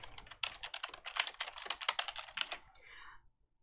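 Quick bursts of typing on a computer keyboard, close and crisp with rapid clustered keystrokes for about three seconds before trailing off into a soft pause.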